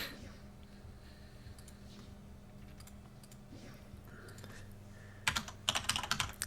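Computer keyboard typing while searching for Yu-Gi-Oh Duel Links cards, a quiet low clatter of keys over steady background hum, ending in a louder burst of quick, close keystrokes.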